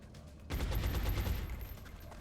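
A gunshot in XCOM: Enemy Within sets off a sudden loud burst of rapid gunfire, fading into a rumbling tail over a couple of seconds, with no voices.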